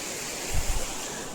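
River water flowing at a Narmada confluence makes a steady, close, broadband rush with a brief low surge in the middle.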